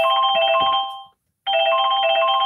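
An incoming-call phone ringtone plays loudly and close, a bright repeating electronic melody that cuts off for a brief pause and then resumes.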